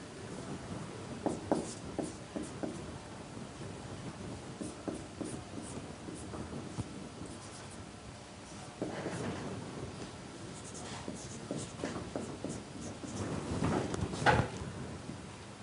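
Chalk or a marker scratches across a board during a university lecture on facility location on networks, producing irregular bursts of strokes and taps with quiet pauses between them and no talk.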